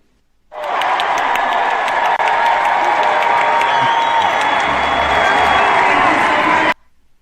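A large crowd at a political convention applauds and cheers in a dense, steady roar of clapping that starts abruptly, holds loud for about six seconds, then cuts off.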